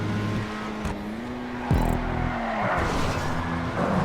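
Grotti Itali RSX sports car in GTA 5 on PS4 driving fast, a steady engine drone with shifting pitch, a brief sharp rev or tire squeal midway, continuous and close with no talk.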